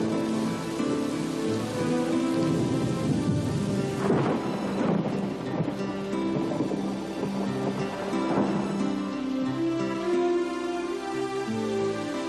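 A thunderstorm with heavy rain pours steadily on a surface, broken by deep rolling thunder swelling twice, loud and close, with no voices.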